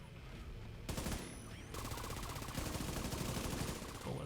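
Rapid automatic turret fire from The Division 2, a loud continuous rattle of bullets with a brief pause and then a longer unbroken burst, no talking.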